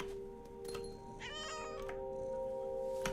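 A cat meows in the video game What Remains of Edith Finch, one drawn-out, wavering meow in the middle of a steady tonal game ambience, with a few soft clicks around it.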